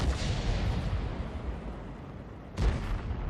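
A 105 leFH18B2 artillery gun fires in a tank video game, one loud close boom at the start that rumbles away, then a second sharp heavy blast near the end.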